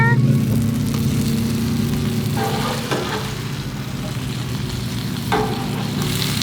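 Chorizo patties on a Blackstone griddle, a steady loud sizzle with scraping clatters of a spatula as they are flipped, over a constant background hum.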